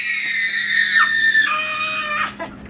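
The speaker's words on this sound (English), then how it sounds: "This overweight wild imbecile is drawn out of the territory by wild screams." Wild, high-pitched screaming in long wavering wails with sharp pitch drops, loud and close, continuing for nearly three seconds without pause.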